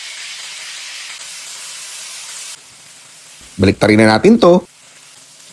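Marinated pork frying in hot oil in a pan, a steady loud hiss and sizzle that drops partway through, then a brief spoken line over the quieter sizzling.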